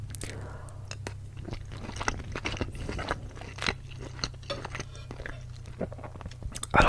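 Someone chews Korean spicy chicken with rice close to the mic, with wet, crunchy bites and soft scrapes in an irregular rhythm over a low steady hum. Faint whispery sounds come through now and then.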